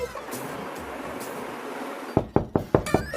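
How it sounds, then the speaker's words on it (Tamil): Knocking on a door comes in as a quick run of about six sharp, close raps after a stretch of low background hum, with no voices. "யாரு கதவு தட்டுறது?"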